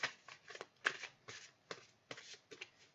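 Playing cards handled and drawn from a deck during a card game, a series of short papery flicks and riffles at close range, irregularly spaced, with no talking.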